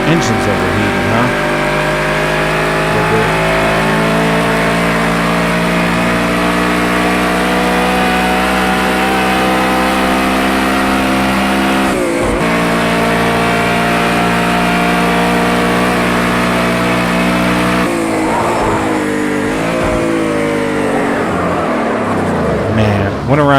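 Overheating car engine in Project Cars 2 holds a loud, sustained revving drone for a long stretch, pitch dipping briefly a couple of times, with faint tire squeal and a voice talking underneath.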